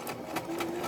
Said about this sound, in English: I don't know if you can hear it, but my sewing machine is sighing